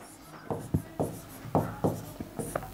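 A teacher writes on a board in short strokes, with about eight distinct scratchy taps and scrapes spaced unevenly, close and fairly quiet.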